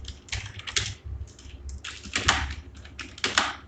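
A page number is typed on a computer keyboard in short clustered bursts of sharp, close key clicks with brief pauses between them, no voices over the clatter.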